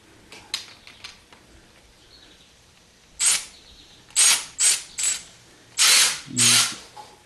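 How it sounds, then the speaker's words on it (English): A ratchet wrench works a power steering pump bolt on a 2015 Jeep Wrangler JK, with faint clicks at first and then five or six loud, close bursts of ratcheting, alone without talk. "use the ratchet"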